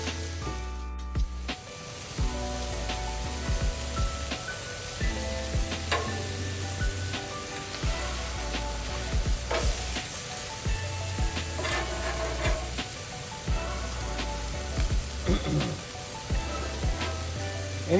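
Seasoned food sizzles steadily on an outdoor griddle, coated in a 50-50 blend of Meat Church Holy Gospel and Voodoo rubs, with a constant close crackle, occasional scraping and tool taps, and a low hum underneath.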